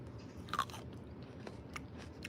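Crunchy grapes are bitten and chewed close up, with a few sharp crunches early on and then quieter, steady mastication.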